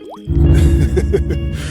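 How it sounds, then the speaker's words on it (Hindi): A bucket of water is poured over a street vendor's goods and sacks of fariyali khichdi stock at his cart, landing as a loud, sudden splash that keeps dripping and sloshing. "वो एक बाल्टी पानी रामू के सारे सामान और बोरों पर उड़ेल देता है।"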